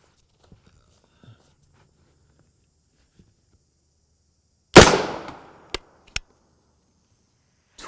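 A single sharp 9mm gunshot from a Liberty Civil Defense load cracks loudly, its blast decaying quickly, followed by two brief sharp clicks or impacts; the rest is near silence.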